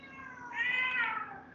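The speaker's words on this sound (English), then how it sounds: "Cat's yelling at us." A moody cat lets out a loud, drawn-out meow that rises and swells through the middle and tapers off, with the start of another yowl at the very end; nobody speaks.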